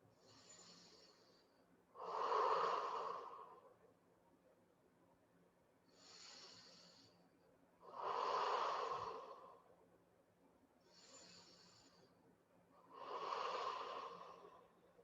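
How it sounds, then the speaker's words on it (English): Slow, deep breaths during a yoga session, three cycles of a soft airy inhale followed by a fuller, louder exhale, heard close and alone without talk. "Breathing deeply."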